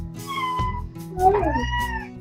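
A cat named Sunny gives a couple of close, clear meows, one rising and bending in pitch, over a faint steady background hum in a home kitchen.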